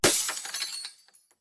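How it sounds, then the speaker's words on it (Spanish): A heavy crystal paperweight slams into a thick glass window, giving one sharp crash with a bright cracking ring that trails off into a few faint tinkles. "Agarré el pesado pisapapeles de cristal del escritorio y lo lancé contra la ventana."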